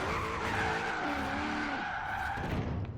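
Tires squeal steadily as a V8 turbo Hummer drifts in Forza Horizon 3, with the engine droning beneath. The skid stays loud and close and runs for about three seconds.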